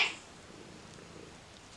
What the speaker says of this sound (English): You heard my cat.